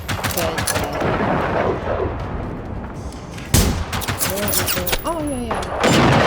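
Gunfire in the open-world shooter Generation Zero, loud rapid shots and bursts cracking close up with booming impacts, interspersed with mechanical sounds and a person speaking between volleys.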